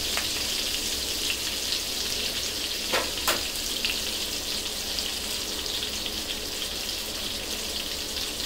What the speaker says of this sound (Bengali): এখন বাটারটা মেল্ট হয়ে এলে এখানে দিয়ে দিচ্ছি 3টা সবুজ এলাচ, 3টা লবঙ্গ